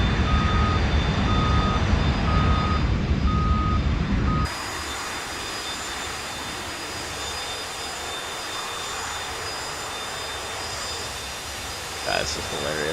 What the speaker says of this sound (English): Just a jet reversing down a road right next to a village.